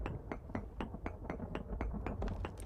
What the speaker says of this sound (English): I'll bash this up with the hammer once we're done with it.